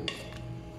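Utensil scraping and clinking against a pan while sautéed vegetables are stirred in broth, a short close burst of metallic scrapes over a steady low hum.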